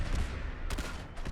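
Shoulder-mounted machine gun firing in Fallout 4, a rapid dense burst of gunfire that cuts off briefly and resumes, loud and close with no voices.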